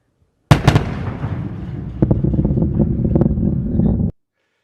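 A loud, sharp boom from the Sentinel-6 Michael Freilich rocket launch hits suddenly, followed by several seconds of rolling, rumbling thunder with crackling bursts before it cuts off.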